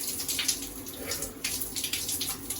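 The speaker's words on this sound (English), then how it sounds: "So first I wet my face." Shower water spraying and splashing as a face is wet: a continuous close hiss of running water broken by uneven splashes and sloshes, with no talk.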